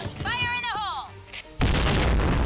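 In a video game, a sudden loud explosion bursts in after a second and a half of quieter game sounds and tonal effects, then roars on with dense rumbling noise.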